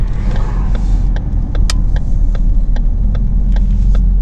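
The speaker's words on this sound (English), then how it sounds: "We're gonna pull on over here in the convenience store" A car idles and rolls slowly off a highway into a convenience store lot, a steady low engine rumble with a regular ticking like a turn signal clicking over it.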